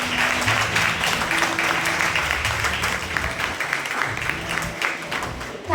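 Audience at a school festival inauguration applauding to welcome the chief guest, a dense steady clapping from a crowd that runs throughout and tapers slightly near the end.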